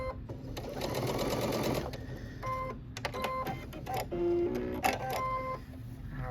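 A sewing machine stitches along the very edge of a small Halloween fabric bag, sewing in close, rapid bursts with tapping and clicking as the fabric is handled.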